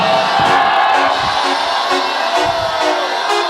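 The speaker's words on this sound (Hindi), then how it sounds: "फजल पे फजल के लिए चिल्ला सकते हैं आप" A church congregation at a Hindi Friday service shouting together for grace, a loud sustained crowd roar with whoops and cheers rising throughout.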